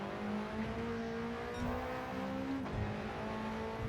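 An Alpine A110 racing in Gran Turismo 7 at Tokyo Expressway holds a steady engine drone under throttle, its tone rising and dipping slightly with a brief tyre squeal, continuous and moderately quiet with no talk.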